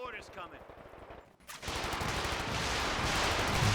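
Machine-gun fire from a .50 cal in the Company of Heroes 2 strategy game rattles in rapid bursts among other battle noise, loud and dense, with a commentator's voice over parts of it.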